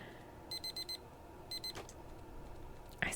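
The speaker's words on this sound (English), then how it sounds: "I smack my alarm clock without looking." Alarm clock in a visual novel video game ringing in two bursts of rapid electronic beeps, followed by a soft thump and a sharper knock as it is smacked, quiet overall.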